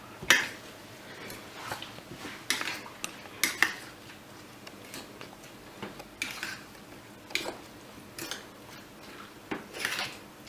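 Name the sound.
mixing omelette ingredients in a bowl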